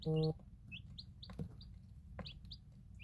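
Eight-day-old chicks peep and cheep in short high chirps, scattered and fairly close, with a brief low thump or bump partway through and a soft louder sound at the very start.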